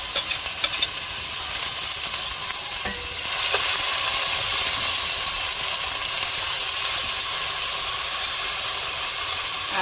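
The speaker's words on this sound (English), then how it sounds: "Now I'm going to go ahead and add my bhaji here." Bhaji sizzles loudly and steadily in a pot of curry, with a dense, continuous frying hiss and a few faint stirring clicks for about ten seconds. No voices are heard.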